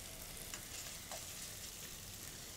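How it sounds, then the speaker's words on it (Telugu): Ginger garlic paste frying in a pan for palak paneer gives a steady, dense sizzle with faint stirring scrapes, continuous and close, with no talking. "అల్లం వెల్లుల్లి పేస్ట్ వేసేసి బాగా ఫ్రై అయిన తర్వాత పేస్ట్ వేసి మంచిగా ఫ్రై చేసుకోవాలండి"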